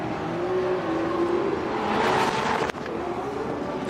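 Drift car at a Russian Drift Series event: a powerful engine holds a wavering, straining note, swells in loudness near the middle, then cuts with a sharp drop before it resumes. The car is heard alone, at a moderate distance.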